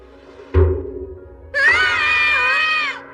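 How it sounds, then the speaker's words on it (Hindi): Two cartoon children in a Doraemon episode scream together: a sharp thump comes first, then a loud, sustained wavering scream that holds for over a second before it cuts off. "तुम दोनों चिल्ला क्यों रहे हो?"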